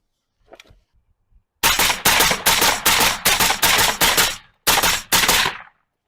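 A suppressed gun fires rapid, closely spaced bursts of loud muffled cracks, about a magazine and a half of rounds, with a brief pause before a final couple of shots.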